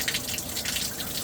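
Steady water rushing through an RV's plumbing and draining toward the gray water tank, a continuous close hiss and gurgle with no break.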